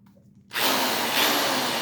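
A bench buffer grinds steadily against Cold Steel Engage aluminum knife scales, starting abruptly after a quiet moment and holding a loud, even broadband whir to the end.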